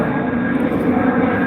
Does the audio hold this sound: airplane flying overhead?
yes